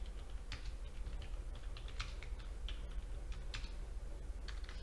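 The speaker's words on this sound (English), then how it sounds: "you just hit enter on your keyboard" Keywords being typed on a computer keyboard: quick clusters of light, crisp key clicks in uneven bursts, close and fairly quiet over a low background hum.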